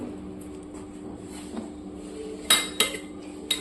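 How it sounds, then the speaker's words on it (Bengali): Cooked handi chicken being moved from a pot into another vessel, heard as a few sharp metallic clinks and scrapes of a utensil against cookware over a quiet kitchen background. "এবার এটা অন্য একটা পাত্রে শিফট করে নেব।"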